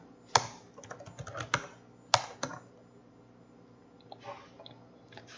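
Someone types a short terminal command on a computer keyboard, a handful of crisp close keystrokes with uneven spacing, a couple of louder sharp presses, then softer taps trailing off.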